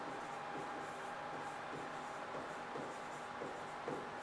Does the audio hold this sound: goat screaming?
no